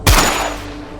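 A single gunshot fired upward, a sharp loud blast with a long ringing decay fading over about a second, heard alone.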